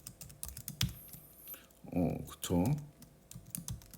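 A computer keyboard is tapped in quick, uneven clicks, close and clear, while a person speaks briefly between and over the keystrokes.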